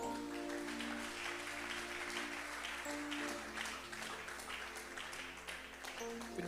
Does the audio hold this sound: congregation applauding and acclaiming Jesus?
yes